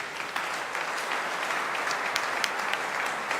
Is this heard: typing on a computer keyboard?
no